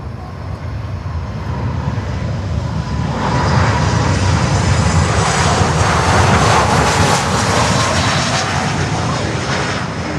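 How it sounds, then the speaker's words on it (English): A Copa Airlines airliner from Panama roars at Miami airport, a loud broadband jet rumble that swells after a few seconds and holds steady throughout. "And there we have Copa Airlines from Panama."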